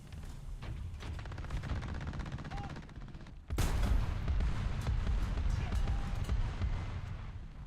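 Tank cannon fire in War Thunder: one sharp, heavy blast cuts through the engine rumble and is followed by a sustained loud roar, with scattered smaller impacts and some talking in the mix.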